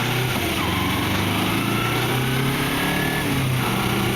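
A 2011 Kawasaki Ninja 250R drones steadily under a rider on the move, a close, loud, buzzing engine note with faint shifts in pitch and constant wind rush.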